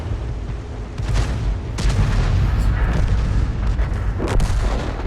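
Artillery gun of an AMX 13 F3 AM self-propelled howitzer firing in a tank video game, heavy booming blasts with rumbling tails, several shots loud and close over continuous low battle noise.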